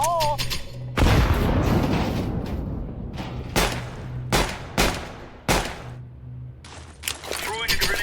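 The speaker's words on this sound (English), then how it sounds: "Throwing a grenade." A grenade is thrown and explodes in Counter-Strike 2, giving a loud boom followed by several sharp gunfire-like bursts amid game noise, with someone talking over parts of it.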